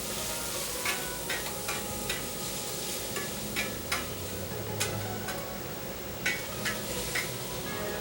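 Food sizzles steadily in a hot wok over a high flame in a Chinese restaurant kitchen while being seasoned with salt and pepper, with repeated sharp clicks of a spatula stirring and scraping the pan throughout.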